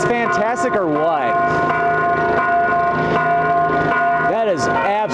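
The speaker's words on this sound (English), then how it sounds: "Probably one of the most beautiful bells I've heard from a cathedral anywhere." Cathedral church bell ringing one steady sustained tone over and over, loud and continuous with rich ringing overtones, while a voice also sounds over it.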